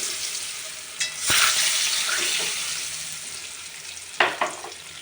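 Eggs fry and get stirred in a pan with cauliflower and new potatoes, giving a steady sizzle, with sharp scrapes and clatters of the spoon near the start and near the end.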